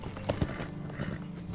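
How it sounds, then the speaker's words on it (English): Goats' hooves clip-clop in quick, uneven steps as another player runs past in the online game The Lord of the Rings Online, close and moderately loud over a soft background murmur. "there's another player running around with their goats"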